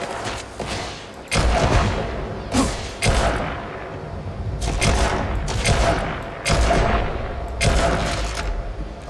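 Repeated bursts of rifle fire from an Akila rifle in the sci-fi video game Starfield, loud close shots in clusters with a steady rumbling background between them, during a fight against robots.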